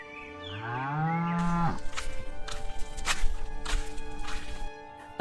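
A cow or buffalo in a village stable lets out one long, loud, drawn-out moo, followed by several sharp slapping thwacks and clatter, all over a steady musical drone in a cartoon story.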